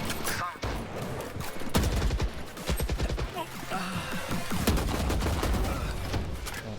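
Rapid bursts of automatic gunfire from a VALORANT match in the courtyard, dense overlapping shots firing in quick volleys through most of the stretch, loud and close, with brief gaps between bursts.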